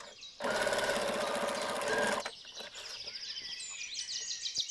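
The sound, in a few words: sewing machine sewing a straight stitch seam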